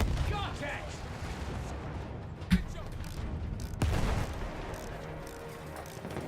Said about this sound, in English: That's one of the field guns that's been shelling you.